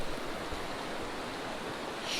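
Creek water flows in a steady, broadband rush, like constant close running water, with no voices.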